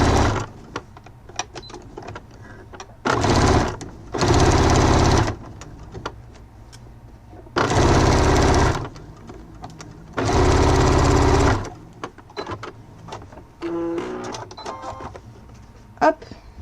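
A domestic sewing machine strains through thick layers of fabric in four loud bursts of whirring stitching, separated by quieter pauses with small clicks and handling noises.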